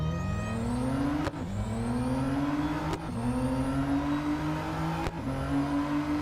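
A race car engine in Real Racing 3 revs hard, climbing in pitch through three quick gear changes, each marked by a brief dip before the whine rises again, loud and continuous.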